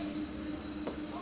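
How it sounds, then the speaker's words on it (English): During a baseball game between West Fargo and Bismarck, a train rumbles steadily in the distance under a continuous low hum, faint and unbroken through the moment. "As the train comes through in the background."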